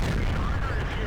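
Tank cannon fire in World of Tanks, in a skirmish against a stock KV-1S heavy tank: a dense, loud, continuous low boom and rumble filling the short moment, with no clear separate shots.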